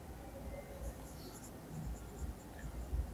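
Marker or chalk writing on a classroom board during a physics lesson makes faint scratchy strokes and light taps, quiet with low room noise and no talking.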